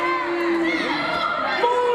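An indoor wrestling crowd at an independent show reacts with a sustained mix of shouting, chatter and loud voices, one high voice standing out early on.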